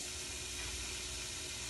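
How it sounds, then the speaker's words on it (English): Tomatillos sizzle and char on a hot comal, a steady broadband hiss like steam that continues unbroken and fairly quiet throughout. "First, we wash the tomatillos thoroughly, and then we transfer to the comal to start charring"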